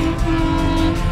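A vehicle horn blares in one loud, unbroken, steady tone that is held for the whole moment, with no one talking.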